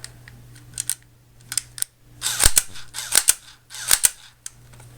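JLS P99 airsoft pistol fired in semi-automatic mode with blowback: a handful of sharp, close plastic clacks in irregular single shots and quick pairs, with faint background hum between them.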